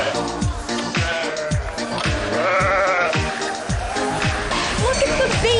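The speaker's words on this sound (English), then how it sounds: "Look at the baby goat." Baby goats at a petting farm bleat repeatedly in short, wavering cries, several animals calling one after another close by over a busy background, with people talking nearby.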